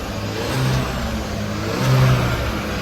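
An Audi A3 with its catalytic converter and DPF removed revs up twice in quick succession, a loud, steady engine roar swelling and easing off over a continuous idle, with no voices.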